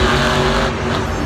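A monster truck at a Monster Jam show in Glendale roars through a 1.3-second burst as it launches off a jump, its engine loud and close in a steady, dense, unbroken roar.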